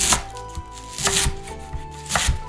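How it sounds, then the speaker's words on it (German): A knife chops garlic chives into short pieces on a board, giving a few sharp, close taps spaced irregularly across a brief moment. "Schnittknoblauch gut putzen und waschen. In 2-3 cm lange Stück schneiden."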